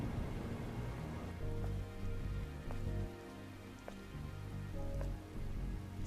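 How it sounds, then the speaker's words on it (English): Steady rainfall in the video game Stellar Blade, a dense even hiss of drops with a few sharper taps standing out, continuous and fairly loud, with no voices. "It's called rain, darling. This must be Earth's rain."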